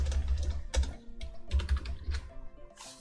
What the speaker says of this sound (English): I hope you don't mind the ASMR that's coming from my keyboard. I just typed that hard naturally